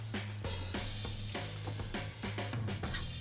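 A sponge scrubbing the back of a sheet pan, rapid rhythmic rasping strokes that repeat steadily at close range over a low hum, with no talking.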